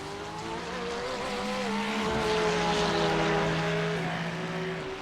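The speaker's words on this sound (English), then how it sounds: "so these engines are running at their best" GT3 race car engines at Circuit de Ledenon in warm weather: a steady, loud drone of several engines with rising and shifting pitches as cars pass close by, no talk.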